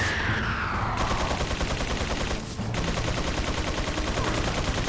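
Rapid bursts of gunfire from Resident Evil 4 rattle on dense and loud for the whole stretch, with a short gap midway before the shooting resumes, no talk over it.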